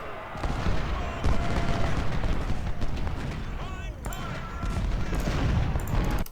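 Musket volleys and artillery fire in Ultimate General: Civil War, a dense, continuous crackle of gunfire with heavy booms, loud throughout with a brief dip midway, partly under a voice.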